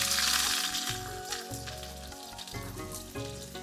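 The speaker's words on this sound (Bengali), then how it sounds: "এখন এই পেঁয়াজ কুচিটা সুন্দর করে ভেজে নেব।" Chopped onion frying in hot oil for chowmein, a steady close sizzle and crackle that holds at an even level, with faint clinks of stirring and no talking.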